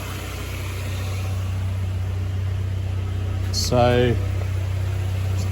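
A 1995 Buick Skylark that hasn't been driven in ages idles steadily while warming up, a low continuous engine hum with a brief louder burst near the end and a single spoken word.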